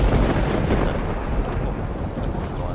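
Thunderstorm in the video game Horizon Forbidden West: a heavy, continuous low rumble of thunder with rain filling the scene, loud and close throughout.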